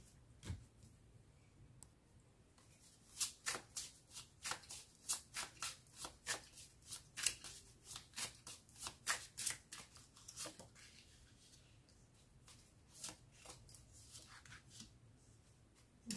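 Tarot cards shuffled by hand, a long run of crisp riffling flicks and slaps close up, bursts clustered in the middle with quieter pauses, no voices.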